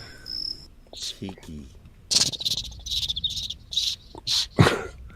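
A man imitates a cricket with his mouth, producing a series of short, shrill, rhythmic chirps up close, repeated several times in quick bursts, after a brief spoken word.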